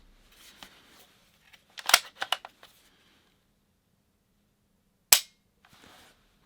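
Turret clicks of a Holosun HE515CT-GR green dot rifle sight being adjusted for elevation: a quick cluster of crisp close clicks, then a lone louder click after a pause and a faint final tick.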